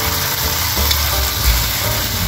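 Onion and sardines sizzle and fry in a hot pan for a stir fry of banana heart and pumpkin, a steady dense crackle with a brief stir partway through, close and loud, no voices.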